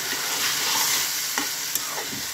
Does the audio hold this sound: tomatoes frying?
yes